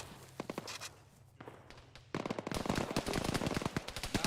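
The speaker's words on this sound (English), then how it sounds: "Why are they shooting at us north?" Rapid automatic gunfire and scattered shots from a military firefight in the video game Arma, bursts growing louder and denser in the second half, with no talk over them.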